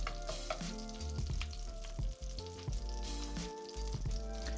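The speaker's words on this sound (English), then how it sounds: "Now you want to have it cook for a few minutes just until you get a nice crust underneath." Vegan chopped cheese sizzles and fries in oil in a pan, a constant crackling hiss with scattered pops and occasional utensil clicks, close and steady.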